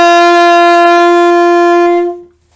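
An alto saxophone holds a single sustained D note, clear and close with rich overtones, then it stops and fades into silence.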